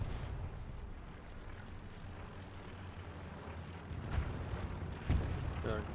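Rocket artillery fires in a Stalingrad battle video game match, a dense low rumble of distant launches and explosions that builds into louder booms near the end.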